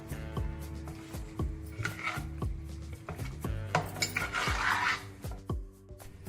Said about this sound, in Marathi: आता आपण हे सर्व मिक्स करून घेणार आहोत।